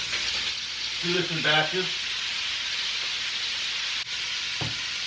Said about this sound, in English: Let's brown some beef.